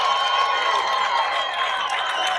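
A high school baseball crowd cheers and claps after a grand slam hit into the trees during a Winfield vs South Charleston regional playoff game, a dense, sustained roar with fans on their feet.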